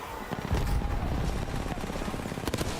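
Gunfire in an Apex Legends shootout, shots fired through smoke in the final zone: rapid bursts of automatic fire crackle steadily throughout, loud and dense with a busy game mix beneath.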